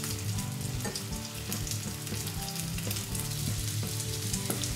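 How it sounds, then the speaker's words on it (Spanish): Vegan sausages frying in a pan, giving a steady, close sizzle with crackling pops and occasional stirring scrapes, heard alone without talk. "vamos friendo las salchichas."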